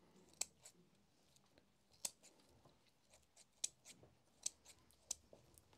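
Scissors snipping small bundles of herbs for a Lithuanian incense bundle: about six sharp, quiet, close-up snips at irregular intervals over a soft background, with no talking.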